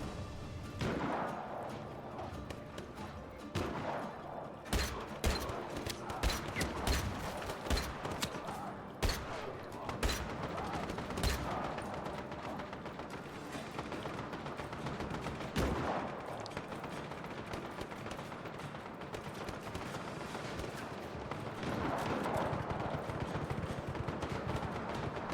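Video game gunfire, with someone shooting at the player: rapid bursts of shots and scattered single cracks keep going for about twenty-five seconds at moderate loudness.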